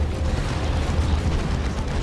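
Rumbling low explosions from a Chaos tank's damage-over-time blasts in Dawn of War 2, a Chaos Space Marines versus Eldar match, forming a steady heavy roar throughout with no talk.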